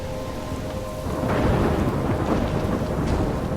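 Heavy rain hisses constantly through a Life is Strange game storm while a deep thunder rumble swells in and rolls on beneath it.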